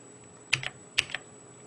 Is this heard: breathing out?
no